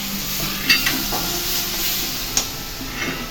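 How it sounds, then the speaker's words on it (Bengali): Pointed gourd and prawns (potol chingri) sizzle and fry in a pan, a steady hiss with a few sharp clinks and stirring scrapes at intervals. "পটল চিংড়ি রান্না হচ্ছে, পটল চিংড়ি।"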